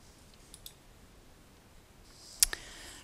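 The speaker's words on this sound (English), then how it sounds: "So then you can click Next." A computer mouse clicks a few times in a quiet room, with two faint clicks early and a sharper, louder double click near the end.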